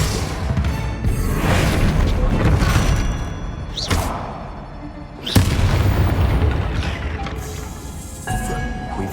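Bombarda spell explosions in a Harry Potter video game: deep booming blasts with heavy low thuds, one big burst around the middle and another near the end, over dense, continuous game noise.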